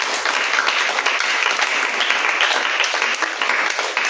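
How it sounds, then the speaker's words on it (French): A church congregation applauding in praise, a dense steady roar of many hands clapping together that fills the room, with no break for the whole stretch. "On va encore acclamer le Saint-Esprit."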